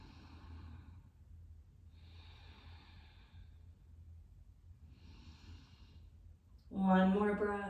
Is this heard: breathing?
yes